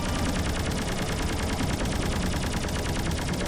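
Rapid missile fire from a ship in the space game Rodina: a dense, continuous barrage of sharp repeated bursts, loud and steady with no pauses.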